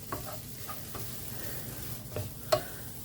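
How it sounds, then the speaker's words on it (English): Mushrooms are stirred back into a sizzling pan. A soft, steady frying hiss runs under scattered scrapes and light clinks of a utensil, ending with one sharper knock. "mix the mushrooms back in"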